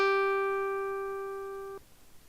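A single synthesized guitar-pluck G note, generated by a command-line sound tool. It sounds as one clean, steady tone that fades slowly for nearly two seconds and then stops abruptly, with no voices.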